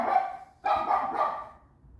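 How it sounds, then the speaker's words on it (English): A dog barking nearby, two or three loud, sharp barks in quick succession that fade out, heard alone without talk. "My dog's going crazy for some reason."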